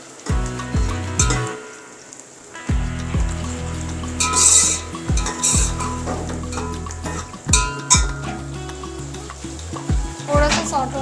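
Cumin seeds stirred in a pot of hot oil while making beef masala, a steady sizzle broken by scraping and clinking of the spoon against the metal pot, close and fairly loud.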